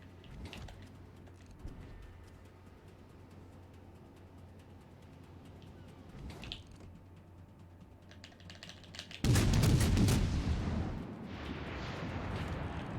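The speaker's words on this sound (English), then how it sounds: "Fire on the enemy warship." Warship guns fire in World of Warships Legends as a sudden loud booming salvo, followed by a rumbling, noisy tail over quiet game ambience.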